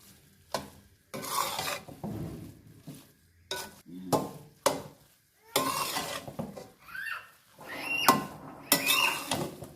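Ground dry fruits stirred into carrot halwa in a pan: repeated bursts of spoon scraping and mixing against the metal, with faint sizzling between strokes, close and irregular.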